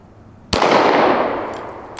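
A single close, loud pistol gunshot fired at a target, from a Springfield Hellcat Pro or Glock 19, with a sharp crack and a reverberant tail that slowly fades.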